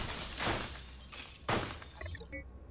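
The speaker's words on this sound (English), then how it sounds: "if you don't break the glass, you can't pick it up" Glass shatters twice in The Surge, a sharp crash followed by a second louder break about a second later, with tinkling shards trailing off.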